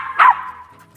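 Milo the dog lets out a short, sharp bark near the start, close and fairly loud, with quieter whimpering tones around it during a training session.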